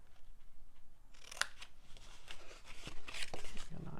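Scissors snip a notch into folded paper, giving a few close, crisp cuts with rustling paper handled between them.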